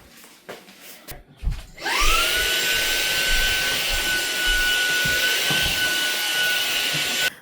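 A handheld vacuum runs steadily over beds after a short startup, with a loud continuous whine and airflow that hold for several seconds.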